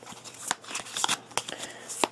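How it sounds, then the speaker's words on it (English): A deck of game cards is shuffled by hand at a table, giving a quick run of soft riffling snaps and flutters, close and fairly quiet. "I'm going to shuffle it up just a little bit."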